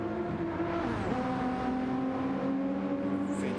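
GT3 race cars lapping the Red Bull Ring in a racing video game, a steady engine drone with shifting harmonic pitch as revs climb and drop, continuous and fairly close, no voices.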